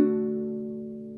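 A single strum on a baritone ukulele rings out and decays slowly, with the ring finger hammering onto the third fret of the B string; warm sustained chord, close and alone.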